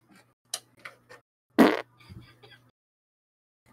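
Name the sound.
fart into the microphone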